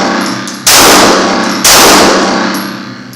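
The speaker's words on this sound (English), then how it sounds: "I'm just going to shoot." Two sharp, loud gunshots about a second apart, fired outdoors at the ground to skip a bullet, each a hard crack with a ringing, metallic tail that decays slowly.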